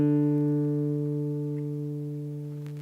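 One plucked D string on a lap guitar rings and slowly fades during tuning, a single sustained note heard close and alone.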